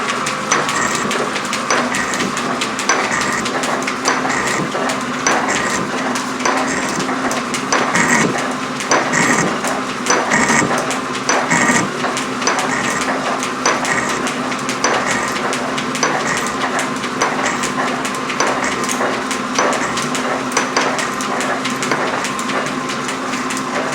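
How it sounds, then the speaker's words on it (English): A metal shaper takes its first cuts in aluminum, a steady repetitive knocking and scraping stroke cycling at an even rhythm, loud and close, with a constant mechanical hum beneath and no talking. "there you have the first chips off of the shaper"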